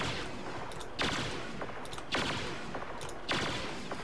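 Gunfire from a first-person shooter video game sounds in three sharp shots, evenly spaced about a second apart, each cutting over a constant background hiss.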